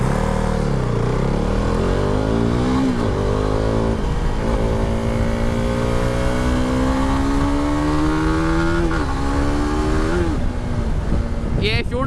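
A KTM RC390 sport motorcycle's engine on a test ride, revving loudly and climbing through the gears in several long rising pulls, each shift briefly dropping the pitch, close and continuous with wind noise.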